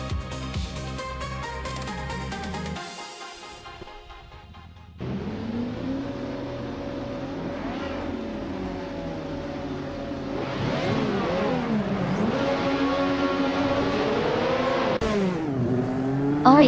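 Race cars at the start of a video-game race at the Algarve track, a dense roar of engines revving and climbing through gears, with a brief dip in sound before the pack surges loudly and stays busy.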